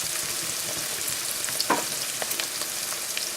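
Chopped garlic cloves hit translucent onions in a hot pan for braised lamb shanks, a continuous hiss and sizzle with a few brief crackling pops and scrapes, no voices.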